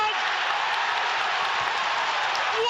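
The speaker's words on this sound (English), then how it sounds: "listen to that crowd now" Football crowd at a Southampton Championship match roaring after Rothwell's goal, a loud, sustained broadband cheer filling the stadium without a break.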